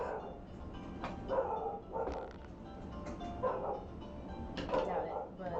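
A dog barks and yips indoors in short repeated bursts, moderately close, mixed with ongoing conversation from people around a table.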